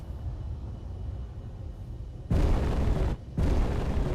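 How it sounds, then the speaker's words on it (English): Missile strikes bursting in the space game Space Engineers, a low steady hum broken by a loud blast at mid-clip, a brief drop, then another heavy roaring explosion that carries on to the end. "Missiles."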